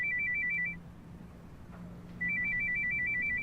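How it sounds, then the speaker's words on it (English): Two bursts of a rapid electronic phone alert for an incoming text, each a quick warbling trill lasting under a second, separated by a quiet pause. "now he receives a text that can only be from her"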